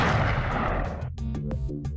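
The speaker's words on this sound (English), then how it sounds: "He loads some solid slugs into his combat shotgun, moves up to the edge of this platform, and then blasts a shot across at Marky Mark" A single loud combat shotgun blast fires a solid slug in a tabletop battle game, a sharp booming report that decays into a short rumbling tail with a few faint clicks afterward.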